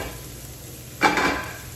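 Greens roast in a hot pan, a low hiss that swells into a short burst of sizzling and scraping halfway through before settling back down.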